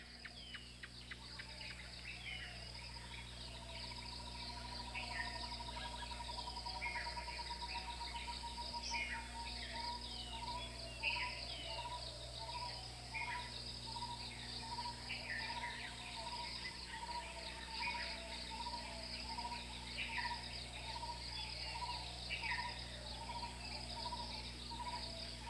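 Dense, steady chorus of crickets and other insects fills a Sri Lankan forest, with a continuous high trilling and a pulsing mid chirp, occasional bird calls scattered throughout, no voices.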